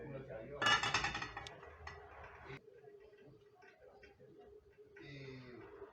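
A frying pan clatters against dishes and cutlery in a home kitchen while galettes are being prepared, with a brief burst of metallic clinks and knocks up close, then quieter scraping handling noises.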